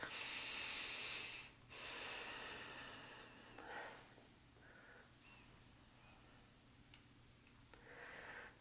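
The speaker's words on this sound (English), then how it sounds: "Big belly breaths." Deep belly breaths during a vinyasa yoga flow: slow, airy inhales and exhales, close and soft, with a breathy wash that swells and fades in a few long cycles and no talking.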